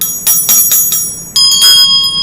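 A small handheld bell rings in bright, metallic strokes, a quick run of four rings followed by a second burst with a different, sustained tone, close and clear with no talking.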